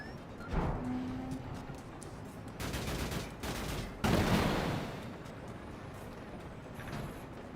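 Video game gunfire from Mortal Shell 2 comes as two dense, rattling bursts of rapid shots over a steady background rumble, with quieter noise before and after.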